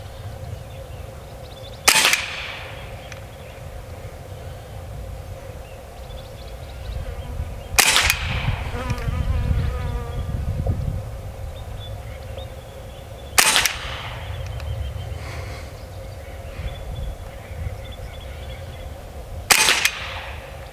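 Four sharp, loud semi-automatic shots from an AEA SF Select Fire .30 caliber PCP airgun, spaced about six seconds apart, each a crisp crack with a short tail over a low steady background hum.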